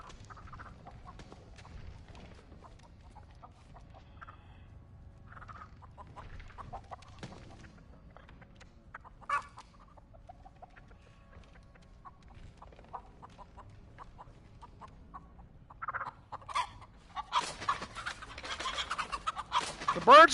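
A bird clucks in the Texas Chainsaw Massacre video game, with repeated fowl-like clucks growing louder and busier toward the end over quiet game ambience, and someone talking intermittently.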